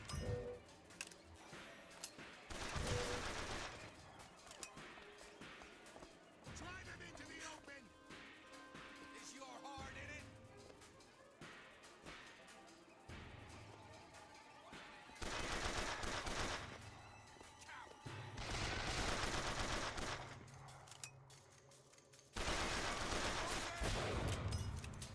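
Gunfire in the game BioShock, loud bursts of rapid shots and sustained automatic fire in several long stretches, with a voice talking faintly between them.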